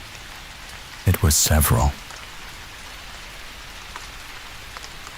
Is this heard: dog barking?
no